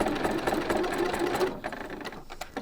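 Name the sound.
sewing machine stitching a pleated ruffle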